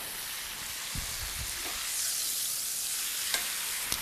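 Flank steak sizzles in a hot pan after being flipped out of the oven, a steady crackling hiss with a few soft knocks of the pan and utensil, close and without speech.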